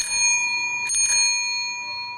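A bright bicycle bell on a Ponix onthel bicycle rings close and clear, with a quick double strike near the middle and a ringing tone lingering throughout.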